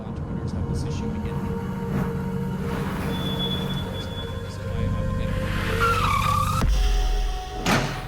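A car skids with rising tire squeal before a rear-end collision in an advertisement, the screech sweeping up loudly, then a sharp impact thump and a final loud hit.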